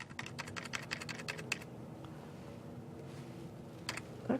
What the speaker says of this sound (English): Just start typing.